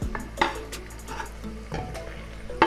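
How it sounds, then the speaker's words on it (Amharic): Meat and onions cooking in a pot for an Ethiopian alicha stew give off a steady sizzle, with a utensil stirring and scraping the pot in several close, clattering strokes. "አሁን ደግሞ ስጋውን በደንብ አድርጌ አቁላለዋለሁ።"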